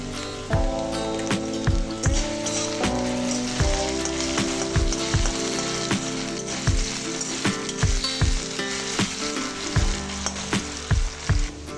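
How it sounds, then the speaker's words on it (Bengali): Potato pieces fry in hot oil with a steady, dense sizzle and crackle throughout, punctuated by repeated low thumps and clinks of a utensil against the pan. "পান্তা ভাত দিয়ে আলু ভাজা ভীষণ ভালো লাগে, তাই একটু আলু ভাজা করছি।"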